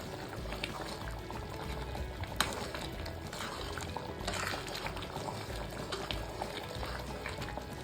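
Paneer butter masala simmers in a pan with a steady, dense bubbling and crackle, close and even throughout, with no talk.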